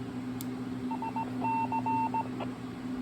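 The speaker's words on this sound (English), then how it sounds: "This controller is capable of sending Morse code ID." Short tonal beeps in a rhythmic on-off pattern from a Motorola 6809 SmartWorks trunking controller sending its Morse code ID, sitting over a steady hum at moderate level with no talk.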